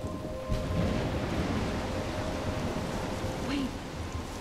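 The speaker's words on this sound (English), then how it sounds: "I'm trapped in a storm?" Rain and rumbling storm noise in the video game Life is Strange, a steady broadband wash of downpour with low thunder rolling beneath it throughout.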